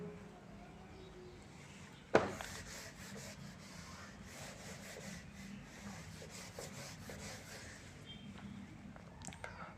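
Chalk eraser rubbing across a classroom blackboard during a maths lesson, a steady faint scrubbing texture lasting several seconds after a single sharp knock near the start, with no talking over it.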